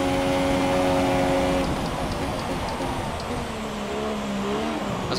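Formula 1 car engine in the F1 2017 racing game at the Bahrain Grand Prix, a loud, steady high-revving drone with harmonic whine that shifts pitch as the car backs off, continuous throughout with no talking.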